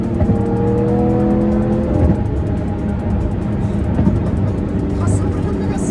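Lamborghini Murciélago engine pulling hard under acceleration, a loud rising roar with climbing harmonic tones heard from the cabin, steady throughout with tire and road noise underneath.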